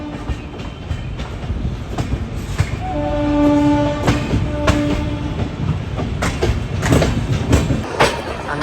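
The Thiruvananthapuram Rajdhani Express pulls into Hazrat Nizamuddin station, its wheels and carriages rumbling steadily throughout, with sustained horn tones sounding in the middle and sharp clanks and rattles toward the end.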